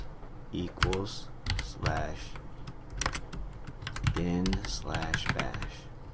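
Quick clattering keystrokes on a computer keyboard come in short bursts, close to the microphone, with a voice speaking over part of the typing.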